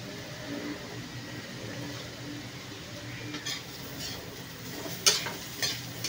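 Ampalaya (bitter gourd) being stir-fried in a pan at home: a steady, even sizzle with soft stirring scrapes and a few sharper clinks of the utensil against the pan near the end.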